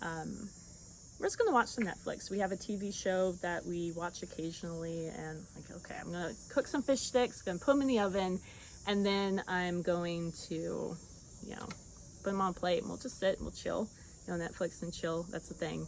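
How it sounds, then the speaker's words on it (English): Cicadas in a backyard give a steady, high, continuous buzz that runs under close conversational speech the whole time. "if you hear that weird buzzing noise in the background, I have these cicadas in my backyard"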